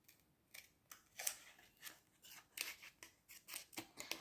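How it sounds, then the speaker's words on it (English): Scissors snip through paper in a steady run of short, crisp cuts while a circle is trimmed out for a DIY hanging photo holder, each snip close and distinct with brief pauses between. "And then you just need to cut the inside of the circle out."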